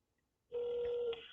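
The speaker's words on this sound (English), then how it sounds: "I have just dialed the phone number of Kentucky Senator Rand Paul" A single steady telephone tone sounds as a call is placed to Kentucky Senator Rand Paul's office, clear and close, holding for about a second after brief silence.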